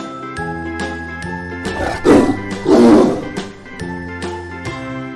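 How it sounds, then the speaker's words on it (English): A tiger roars in two rough, swelling bursts over light jingling, tinkling music in the background. "T for Tiger."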